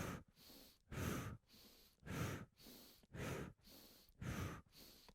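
Alternate nostril breathing during a Kundalini Kriya yoga session, with five strong, close nasal inhales and exhales alternating with quieter breaths in a steady, slow rhythm, no speech.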